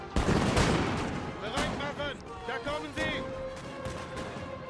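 Canister shot artillery and musket volleys in the Napoleon Total War video game crackle in dense, rapid bursts. Heavy booms and sharp ricochet-like whines are layered over a constant roar of battle.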